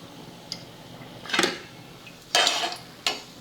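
Metal pots and a pan clatter and clank in a home kitchen as frying oil is poured off after deep-frying chakli, with three sharp knocks spaced over a few seconds and quiet room tone between them.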